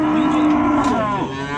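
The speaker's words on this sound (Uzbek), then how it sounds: "Bular tepadan tushgan yuvosh mollar, jonivorlar." A cow gives a loud, close, drawn-out moo amid the bustle of a livestock market, the lowing call sliding down in pitch over a second and a half with no talk over it.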